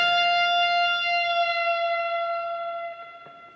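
One electric guitar F note rings out and is lowered with the tremolo bar, a gentle downward glide, sustaining clearly and alone before being muted with a faint click near the end.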